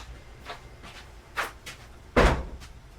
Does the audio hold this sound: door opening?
yes